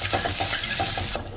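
Whole spices, five-spice panch phoron, bay leaf, asafoetida, whole dried red chillies and crushed garlic, sizzle in hot ghee with a loud, dense hiss and rhythmic stirring scrapes, close up and without talk.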